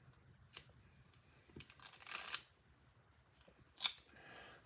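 Scotch tape is pulled from the roll and torn during a paper craft project, a few quiet, brief rips and one longer stretching pull, isolated against near silence.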